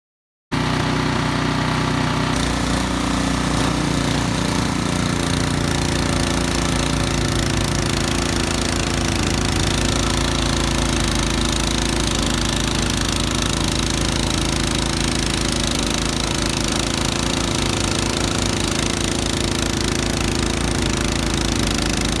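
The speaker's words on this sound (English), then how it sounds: "We're talking Ariens snowblower today. We're going to go outside, start it up, and start throwing some snow." An Ariens snowblower from 2021 runs outdoors throwing snow, its engine roaring loud and steady at full throttle with a rough, rattling drone that holds for the whole stretch.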